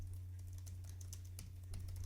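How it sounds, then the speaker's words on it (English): Rapid typing on the chiclet keyboard of an Intel Lunar Lake (Core Ultra Series 2) laptop, a steady close patter of light key clicks with a faint low hum underneath and no talking. "Let's see how fast we can type here."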